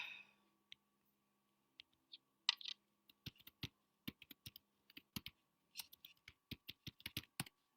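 Keys tapped on a computer keyboard while a search for blockchain technology is typed, a scattered string of crisp, close clicks that speeds up into a steady, rapid typing rhythm in a quiet room.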